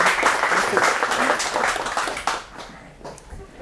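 Loud, sustained applause from a conference audience at a Startup Grind Phoenix event, welcoming a guest onto the stage, steady clapping that fades toward the end.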